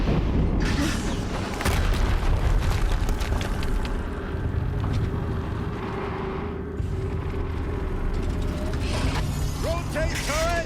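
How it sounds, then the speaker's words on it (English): Explosions in the Horizon Zero Dawn game come as deep booms and rumbling blasts mixed with mechanical clanks and ratcheting noises, dense and continuous throughout. "Another explosion."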